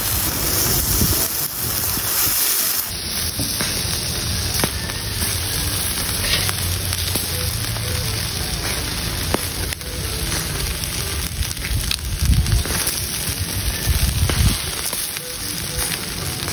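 Chicken wings brushed with sauce grill over a low fire, giving a steady loud sizzle and crackle with occasional pops throughout.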